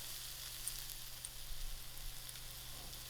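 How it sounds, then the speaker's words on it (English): Biryani dal, brown masoor lentils coated in masalas, frying in a pot, a continuous soft, even sizzle with faint crackles, close up and without any talk. "the biryani dal is fried out with the masalas coated very well"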